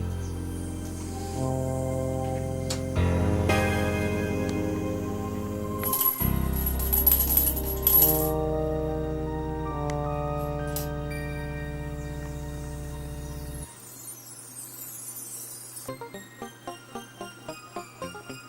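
A coin drops into a mug during a magic trick, bright metallic clinks and rattles over played music, ending in a series of rhythmic settling clinks as the coin spins down.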